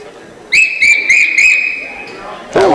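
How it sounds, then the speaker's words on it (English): A spectator's sharp whistle cuts through a basketball gym in a high school game: four quick rising blasts followed by a long held note, loud and close, with a burst of crowd noise at the end. "Somebody on this side gave her a good whistle there right as she was ready to let go of that ball."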